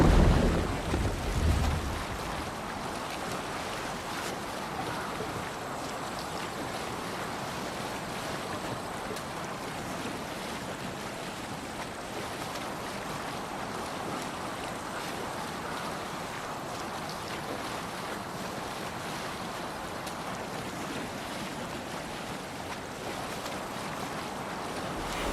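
A Viking longship sailing at sea in Assassin's Creed Valhalla, with a steady rush of wind and waves slapping against the hull, a brief louder splash at the start, then an even, unbroken wash.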